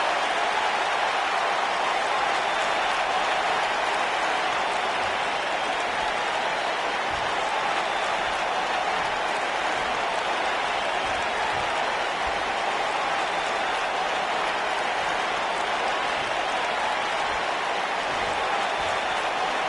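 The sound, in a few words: arena crowd applauding in WWE 2K19 video game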